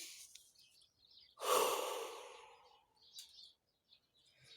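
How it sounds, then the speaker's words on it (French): A single deep breath during a guided energy-healing session: a strong, airy inhale or exhale swells and slowly fades over about two seconds, close to the mic, with faint rustles and quiet around it. "ça serait bien de faire 3 respirations"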